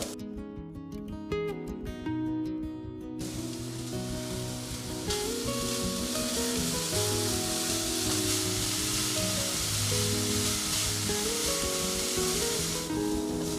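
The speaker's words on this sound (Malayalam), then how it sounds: "ഈ നെയ്യിൽ തേങ്ങ ജസ്റ്റ് ഒന്ന് നമുക്കൊന്ന് വഴറ്റിയെടുക്കണം" Grated coconut and carrot sauté in hot ghee for soft milk puttu, a steady close sizzle and crackle under background music, continuing throughout without speech.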